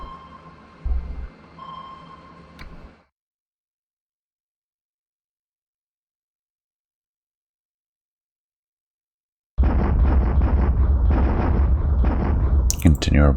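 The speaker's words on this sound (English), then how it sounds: "Continue our bombardment of Wake" Naval bombardment of Wake Island in a wargame: a few scattered thuds and a tone come first, then a long silence, then a loud continuous barrage of booming blasts and crackling that runs to the end.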